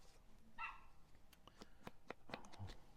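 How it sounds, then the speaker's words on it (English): A neighbour's dog in the house next door, one of a row of back-to-back houses, gives a string of short, sharp barks and yips, fairly faint and distant, spread unevenly over a few seconds. "Next door's dog."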